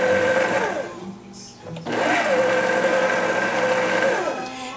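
A stand mixer motor whirs loudly while pulsing bread dough for sandwich bread, stopping briefly and then starting again with a steady, slightly wavering hum.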